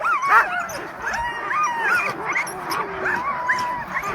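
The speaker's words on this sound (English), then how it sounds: "Dogs are getting fired up now. Beautiful huskies." Sled dog huskies in H-style harnesses at the Knik 100 race in Alaska whine, yelp and yip excitedly in a continuous, overlapping chorus, fairly close and lively throughout.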